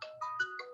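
A phone ringtone chimes alone in a short electronic melody of a few clear, bright tonal notes, fairly close and steady.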